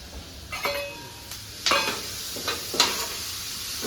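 Tomatoes go into a hot pan for a corn curry, sizzling and frying while a utensil scrapes and stirs in several distinct strokes, close and moderately loud.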